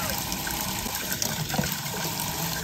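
Tap water runs steadily while a plastic bottle is rinsed, a dense continuous splashing gush close by, with a voice talking faintly underneath.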